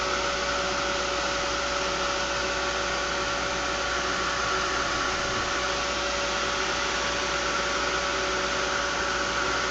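A dryer blows a steady, loud whooshing stream of air over pop art face tiles, with a constant motor whine running unbroken throughout.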